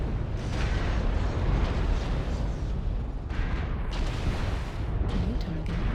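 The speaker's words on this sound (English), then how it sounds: "Explosion detected." Deep rolling explosions rumble through a MechWarrior Online battlemech match: a sustained, loud roar with heavy low booms and a few sharper bursts near the end, no talk over it.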